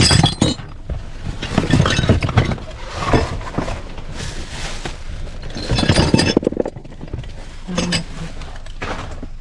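Broken drinking glasses clinking and scraping as the shards are handled, bright irregular clatters in bursts over nine seconds, close and fairly loud with no talk.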